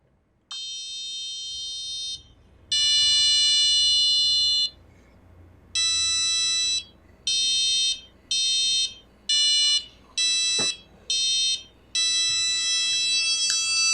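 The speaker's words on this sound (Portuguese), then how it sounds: "vou apertar no sensor aqui atrás e ele vai utilizar os atuadores dos LEDs, das luzes e do barulho" Educational robot's sound actuator set off by its touch sensor, sounding a loud electronic alarm beep in bursts: two long tones, then a series of shorter evenly paced beeps, and a final long tone.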